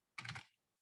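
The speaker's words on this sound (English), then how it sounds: "I was just typing as fast as I can without thinking it through" One quick burst of computer keyboard typing, several rapid key clicks run together, faint and close, then quiet.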